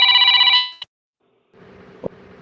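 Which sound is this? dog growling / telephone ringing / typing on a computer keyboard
telephone ringing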